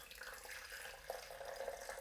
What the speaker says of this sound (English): I want to slow down my pouring process, because I want to make sure that I leave behind in the beaker the heavier sediment